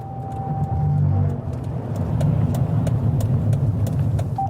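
A car engine rumbles close by on a motorway stop as the vehicle pulls up, its note shifting and swelling midway before settling into a steady run with faint clicks over it.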